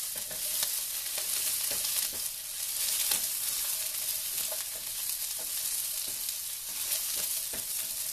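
Steady, broadband frying sizzle from eggs in a small pan, continuous and fairly close, with faint crackles and occasional clicks over about eight seconds, no voices.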